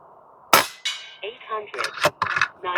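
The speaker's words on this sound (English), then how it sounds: "for these 5 shots, let's shoot them all at the same target" An FX Airguns Crown MkII air rifle fires a pellet at a target: one sharp, close crack, then a brief metallic ring, followed by a voice talking.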